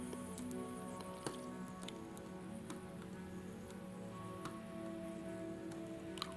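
Rosin flux bubbles and sizzles under a soldering iron on a corroded original Game Boy circuit board, a faint close-up crackle of tiny irregular pops and ticks over a low background hum.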